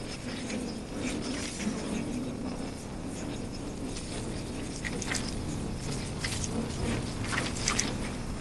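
Pivot Trail Cat LT mountain bike rolling down a trail, a steady rattle of tires and chain over rough ground with a ticking freehub and scattered clicks and knocks from bumps, moderately loud throughout.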